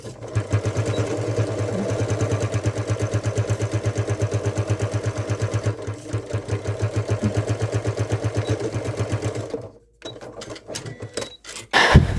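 Sewing machine top stitching a stocking, running fast and steady with a loud even mechanical chatter for about ten seconds, then stopping with a few clicks and handling noises.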